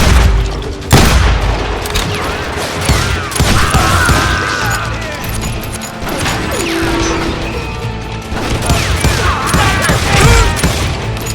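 Shotgun blasts boom amid a loud, continuous barrage of gunfire and crashes in the Western shooter game Call of Juarez Gunslinger, with music and effects layered throughout.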